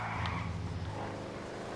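A car slides through a race in GTA Online, a sports model styled after the Buffalo S. A loud, steady engine roar with skidding tire noise runs throughout, and nobody speaks.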